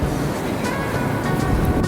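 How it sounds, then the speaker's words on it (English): Large ocean waves breaking on a beach at Grootbank make a steady, loud roar of surf and wash with no distinct individual breaks, and wind noise mixes in. "As you can see, the waves are huge."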